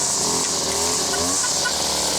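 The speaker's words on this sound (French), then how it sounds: "Maintenant, il tourne bien, on lui a fait un réglage carbu" A small engine, freshly carburetor-adjusted, runs steadily at a fairly high, even buzz with shifting tonal harmonics, close and loud for a couple of seconds.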